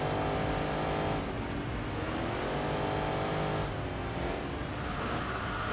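A race car engine roars loud and close in Enthusia Professional Racing, holding a steady high drone that rises and dips with shifts, with faint tire squeal and no talk over it.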